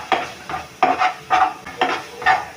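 Okra masala with chili powder is stirred in a pan, five loud rhythmic scrapes of a spoon through the thick mix, each followed by a brief sizzle.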